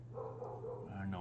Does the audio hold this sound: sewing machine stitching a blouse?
no